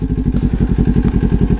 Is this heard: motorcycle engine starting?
yes